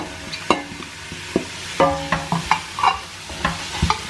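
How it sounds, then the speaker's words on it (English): Chopped celery goes into a pan of frying onions and gets stirred, with a soft sizzle under a run of scraping, clacking spoon strokes against the pan. "Now we'll add the celery."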